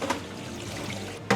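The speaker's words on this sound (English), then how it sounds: "we're going to pour our paracetic acid" Peracetic acid pours and trickles around a unitank fermenter in a homebrewing setup, a soft steady liquid splash close by with a brief louder gush at the end, no talk.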